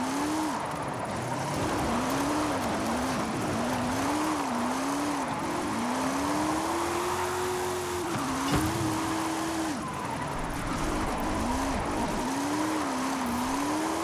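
A classic Maserati in Forza Horizon 5 roars continuously as it is driven hard at night, its engine pitch rising and dipping through repeated gear changes, with occasional tire squeal, loud and unbroken.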